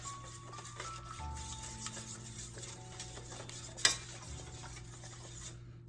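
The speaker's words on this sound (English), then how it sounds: "I'm gonna take my garlic, I don't know, half a teaspoon or so, and mix that around" Garlic is stirred into a mixture for no-bake canned-biscuit donuts, giving soft, faint scraping and stirring with a few light clinks and one sharp tap, over a steady low kitchen hum.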